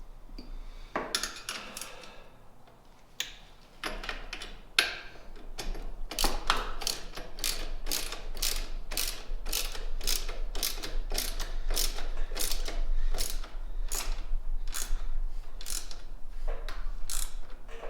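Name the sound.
tightening bolts on motorcycle engine guard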